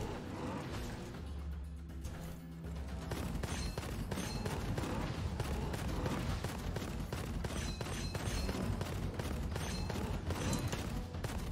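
Starting weapon fire in the shooter game Gunfire Reborn, a steady stream of rapid gunshots with mechanical clatter and booms running continuously over dense game sound, with a voice talking faintly underneath.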